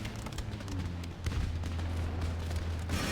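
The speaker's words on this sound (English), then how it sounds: "We'll keep the cannon fire off in the distance against the guy behind the fence." Distant cannon fire in Empire Total War, a battle of dull booms and crackling volleys rolling under a steady low drone of game background, with no single dominant blast.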